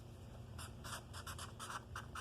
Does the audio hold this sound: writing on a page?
yes